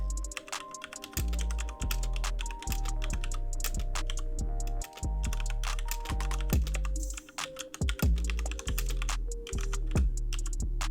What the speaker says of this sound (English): The first is the Corsair K95 RGB Platinum mechanical gaming keyboard with Cherry MX speed keys.